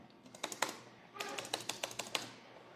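Quick bursts of keystrokes on a computer keyboard set to a Devanagari layout: two separate runs of rapid, crisp clicks with a short pause between, fairly quiet and close.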